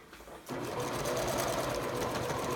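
A sewing machine back stitching along a pillow seam starts abruptly and runs steadily and close, a dense rapid mechanical whirr that keeps going to the end.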